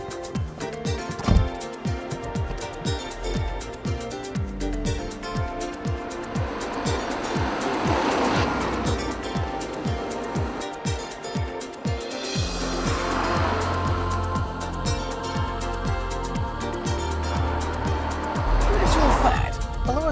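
A Ford Mondeo four-door saloon drives along, its engine droning steadily at moderate loudness, with swells in the road and engine noise and other background sound layered over it.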